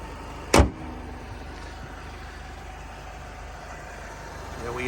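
A 2005 Chrysler PT Cruiser GT Convertible engine idles smoothly and steadily with a low, even rumble; a sharp clunk is heard early on, and the sound grows slightly louder near the end.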